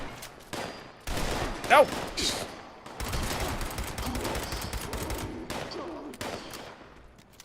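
Sustained gunfire in the Fallout 76 video game, with rapid bursts of shots and a sharp louder crack near the start, and a brief spoken word over the shooting.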